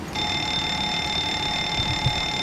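In the cockpit of a Ryanair 737-800 in the P3D flight simulator, the fire test alarm rings as a loud, steady, continuous electronic bell for the whole stretch, with no one talking.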